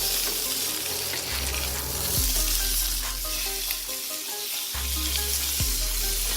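Miso soy steak sizzles and fries loudly in a pan, a dense continuous crackle with a low hum underneath and brief shifts as the meat is flipped, no voices.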